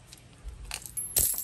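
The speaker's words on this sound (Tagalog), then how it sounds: "Lalagyan ako ng barya dyan." A coin set down in a corner as a good-luck charm, heard as a short quiet clink with a brighter metallic tap near the end, alone with no talking.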